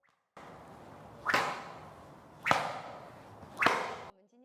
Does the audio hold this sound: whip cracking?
yes